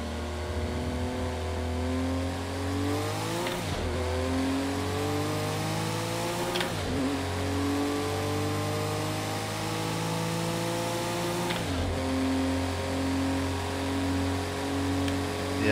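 Race car engine in Project Cars 2 at Le Mans, loud and close with strong rising harmonics as it climbs through the gears, three sharp upshift breaks cutting the climb, a continuous steady roar with no talk.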